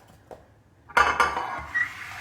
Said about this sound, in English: put our baking dish here